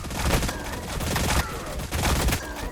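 Dense unit gunfire from the Warhammer Battlesector video game rattles on continuously, a loud fusillade of overlapping shots with heavier bursts throughout.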